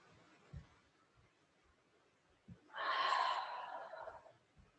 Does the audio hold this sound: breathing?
yes